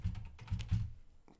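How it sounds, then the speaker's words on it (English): Keystrokes on a computer keyboard in a few quick bursts, close and moderately loud, tapering off into near silence at the end. "I'll just type that out here."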